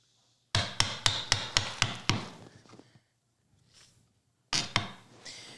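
Chisel chopping a half-blind dovetail in pine, seven evenly spaced sharp mallet strikes in a steady rhythm, then a pause with faint scraping, then two more blows, close and crisp.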